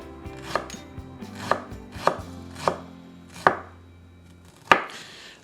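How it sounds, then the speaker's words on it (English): A knife finely chops garlic and ginger for curry aromatics, six crisp, loud knocks on a board, evenly spaced at first and then slowing, with no voices. "I just want to chop this up very finely."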